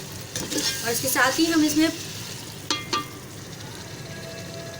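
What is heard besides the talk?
spoon stirring spiced masala with turmeric in a pan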